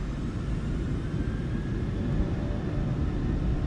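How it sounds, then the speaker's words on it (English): Boeing 737 jet engines at takeoff thrust, making a loud, steady, broadband roar and rumble that holds constant throughout with no talk over it. "Set takeoff thrust."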